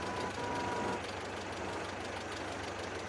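A light tractor engine in the farming game Farming Simulator 22 runs at a steady, low rumbling idle, continuous and fairly quiet, with no voices over it.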